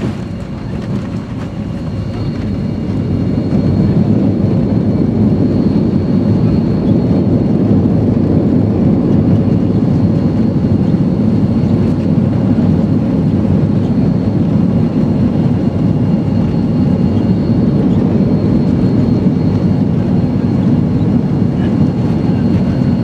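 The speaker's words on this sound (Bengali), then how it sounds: "আল্লাহর রহমতে এই আমরা নেমে গেলাম।" A US-Bangla Airlines plane landing at Chennai airport, heard from inside the cabin as a loud, steady engine and airframe roar that builds in the first few seconds and then holds.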